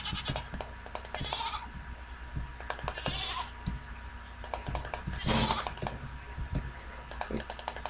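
A goat in a video game bleats several times against a steady clatter of fast computer-keyboard typing, with game sounds layered underneath throughout.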